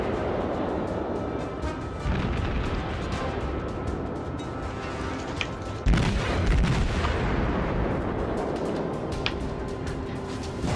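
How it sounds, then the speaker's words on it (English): Naval gunfire in World of Warships, with a dense barrage of booming shots over rumbling battle noise, including one loud, close blast partway through. "There are the shots I was expecting from the other stuff."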